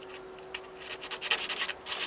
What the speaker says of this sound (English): Just went and took a piece of old 80 grit sandpaper from my DA sander.